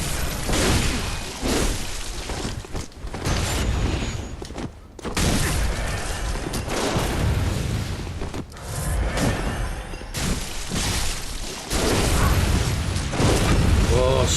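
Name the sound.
gunfire from shotgun and machine gun in Bloodborne video game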